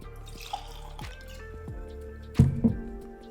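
E.H. Taylor Small Batch bourbon is poured into a glass, with a brief liquid glug, a few drips and soft squishy handling sounds, close and quiet with no talk.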